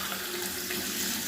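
Hot water running from a bathroom tap in Dubai: a steady, close, continuous hiss and splash of water pouring into a sink, with no talk.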